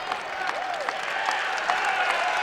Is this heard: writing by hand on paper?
no